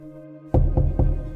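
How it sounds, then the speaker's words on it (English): Three gentle, evenly spaced knocks on a door in the small hours, soft and close, over a faint background hum. "hearing this gentle knocking or tapping on the door"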